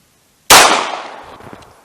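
A single sharp gunshot of a 9mm +P Super Vel 115 grain solid copper hollow point round cracks loudly after a moment of silence, then its echo decays over about a second and a half.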